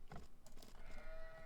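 A short synthetic sheep bleat from an Age of Empires–style strategy game, faint and brief over low game ambience, trailing into a thin tone.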